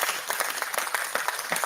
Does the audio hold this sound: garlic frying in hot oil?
no